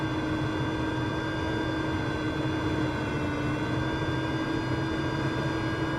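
An aircraft in Microsoft Flight Simulator lifts off a runway in the Nordics, a steady, loud engine drone with constant hum and whine tones throughout, no speech over it.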